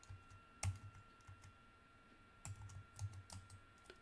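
Password typed on a computer keyboard, quiet scattered key clicks in two short bursts separated by a pause, soft and close against a faint hum.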